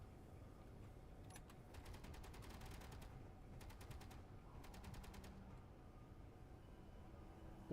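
Rapid bursts of automatic gunfire from Space Engineers, a survival video game, come in several separate volleys over a steady low background hum; the shots sound fairly distant and faint.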